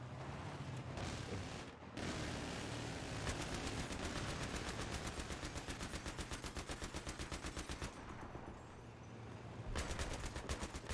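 Sustained automatic gunfire in a shooter video game, a dense, rapid stream of shots aimed at a tower, loud and continuous for most of the stretch with a brief pause near the start and bursts resuming at the end.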